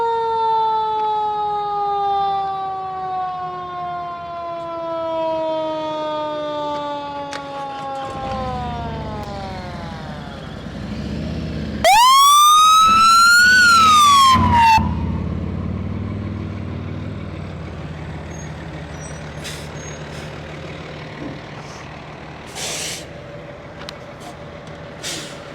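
A fire ladder truck arrives with a loud wailing siren that sweeps down in pitch as it approaches, then a sharp burst of air-horn-like blast before the engine idles with rumbling and faint clanks nearby.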